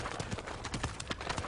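Horse hooves clip-clopping in a historical drama scene, a quick run of muffled hoofbeats against a noisy ambient background, fairly faint and continuous over a brief moment.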